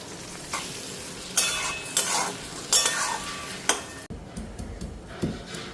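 Thinned spice paste hits a hot frying pan with a sizzle, joined by several sharp scrapes and clinks of a utensil stirring against the metal, then a quieter, steadier sizzle continues.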